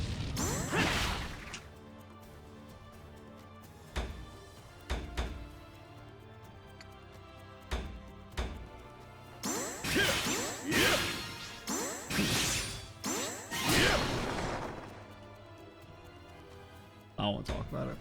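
Obero's smashing attacks in the Utawarerumono: Prelude to the Fallen video game: repeated heavy crashes and swishing whooshes in separate bursts, loud and close, with quieter gaps between the strikes.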